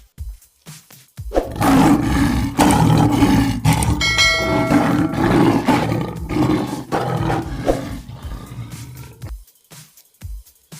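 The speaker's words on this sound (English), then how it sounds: "Lion." A lion lets out a long, deep, powerful roar up close, rumbling for several seconds and swelling and fading over most of the stretch, framed by brief quieter moments at the start and end.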